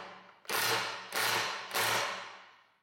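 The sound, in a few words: Milwaukee M12 impact wrench hammering, then automatically stopping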